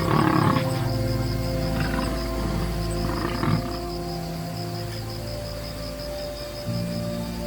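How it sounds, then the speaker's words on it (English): A lion roars at midday on a dry grassland, deep low rumbling grunts repeating under a constant high insect drone, with no talking. "This is the kingdom of the lion at midday"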